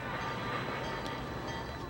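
Dense, continuous rumble and roar of a train station, with trains moving through and a steady wash of mechanical noise, loud and close, no clear voices.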